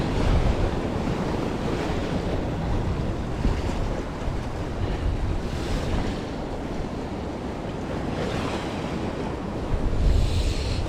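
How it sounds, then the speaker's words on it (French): Sea swell and surf wash steadily against a shore where someone is fishing from a boat, a continuous broadband roar with gentle surges and some wind buffeting the microphone, no voices. "Il y a encore un peu de houle qui arrive."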